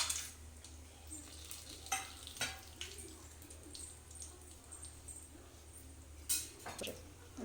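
Whole garam masala spices (shahjeera, cinnamon, cloves, biryani flower, star anise, cubeb, cardamom, bay leaf) fry in hot oil for Hyderabadi dalcha, a steady sizzle broken by several sharp clinks of a utensil against the pan.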